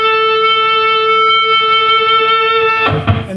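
A sustained electric guitar note bent up to pitch on the 10th fret of the second string, ringing steadily with harmonics alone before a brief burst of fresh attack near the end.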